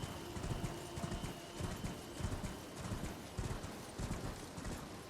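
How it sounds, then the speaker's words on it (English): Horse hooves clip-clop in a steady galloping rhythm in the video game Elden Ring, loud and close, with an occasional whinny and no talking. "Let's go back on our horse."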